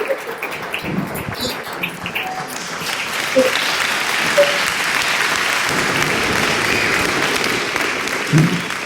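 Audience applause at a public-interest law course session welcomes a senior government bureaucrat, a steady broad wash of clapping that swells after a few seconds and holds throughout.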